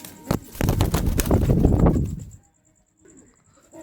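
Pigeons in a loft give several low, throaty coos and flutters close by for about two seconds, then a short pause and a fainter coo, with no talking.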